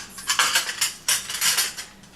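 Dishes and cutlery clatter close by in a run of bright clinks and scrapes while plates are gathered after a dinner, with no talk.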